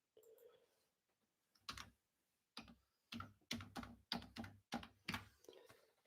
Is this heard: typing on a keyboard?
yes